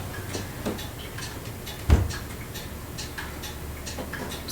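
A clock ticks steadily and faintly in a quiet room, with one soft thump partway through and low background hiss, no voices.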